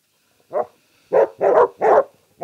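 Dogs bark four times, one isolated bark followed by three quick, loud barks. The sound is close and stands alone against a quiet background.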